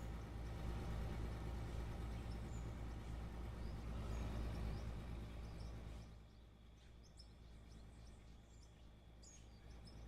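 A heavy mining vehicle driving in Out of Ore, a constant low engine drone with mechanical rattle that eases somewhat partway through, while faint bird calls sound in the background.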